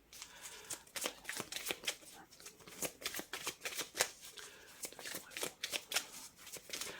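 Tarot cards are shuffled close up in a steady stream of quick riffling and flicking sounds over several seconds, soft but crisp, with no talking.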